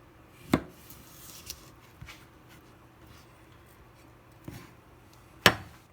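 A knife slices a cucumber into strips with the peel left on, giving a few sparse, sharp cutting taps against the board, spaced irregularly and fairly close, with no talking.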